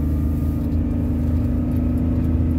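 Perodua Viva 1.0 automatic car engine running while driving, a steady low rumbling drone with a constant mid hum, moderately loud and continuous, no voices.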